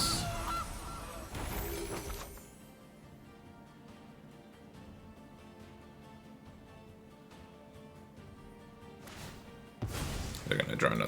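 Goose honking from a card in the video game MTG Arena, a burst of loud cartoonish honks at the start and again near the end, with quieter game sounds in between.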